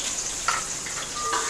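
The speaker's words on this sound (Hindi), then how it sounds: "ऑयल गर्म हो गया, मैं इसमें प्याज डालूँगी।" Onions hit hot oil in a pan for a beef pulao and fry with a steady, close sizzle and crackle, with a few brief pops and spits over the hiss.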